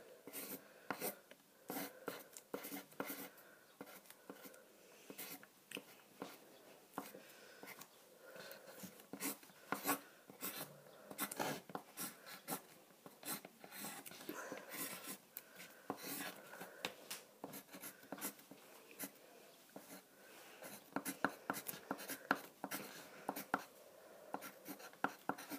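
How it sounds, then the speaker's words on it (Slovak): A pencil scratches across paper in continuous close strokes, with quick irregular scribbles and taps and short pauses over a long drawing session. "kreslím"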